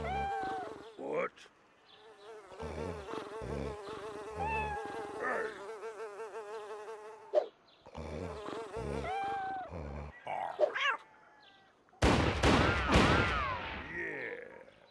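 Cats meowing in a cutscene from the video game Team Buddies, several cries and yowls in bursts across the clip, mixed with game music and effects and ending in a loud harsh burst.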